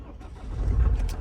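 A car engine cranks and catches inside the vehicle, a low rumble swelling over about a second as it starts, heard close from the driver's seat on a mountain road trip.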